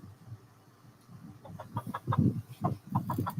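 A backyard chicken clucking nearby in a short series of quick, throaty notes that grow louder toward the end, with no talking.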